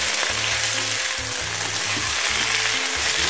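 Potatoes sauté in a frying pan with herbes de Provence, giving a continuous, dense sizzle and crackle, steady and close with no voices over it.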